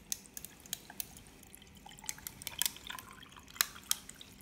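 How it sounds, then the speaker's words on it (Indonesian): Ice cubes tumble into a calamansi orange drink, sharp scattered clinks and plinks at irregular intervals, close and fairly quiet. "kita kasih es batu ya guys"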